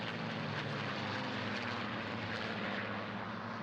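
Merlin- or Griffon-engined propeller fighter flying at an airshow, its steady, loud engine drone filling the whole stretch without a break.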